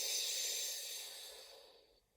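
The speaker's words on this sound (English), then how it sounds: "And again, breathe in." A person takes one long, steady breath in during a breathing exercise, an airy hiss close to the microphone that fades out over about two seconds.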